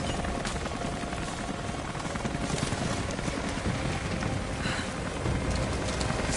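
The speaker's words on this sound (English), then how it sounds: "That was Constantine's chopper." In the video game Rise of the Tomb Raider, a helicopter's dense, loud rotor roar fills the scene without a break, a steady broadband wash with a faint rhythmic chop and no talking.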